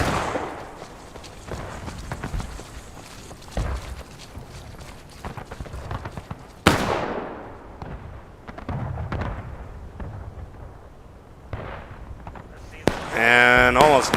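Distant musket and artillery fire rolls through a 1776 Revolutionary War battle video game, with repeated booms and crackling volleys over a steady battlefield din, one sharp loud blast midway and a busy burst near the end.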